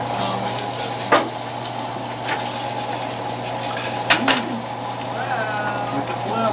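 Fried rice sizzling hard in a hot pan as a splash of rice vinegar goes in, a continuous loud hiss with a few sharp spatula scrapes and clanks, people talking over it.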